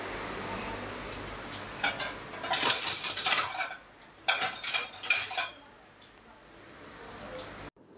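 A metal spoon clinks and rattles against dishes in a home kitchen, with two bursts of bright clattering and scraping followed by quieter handling and a low background hum.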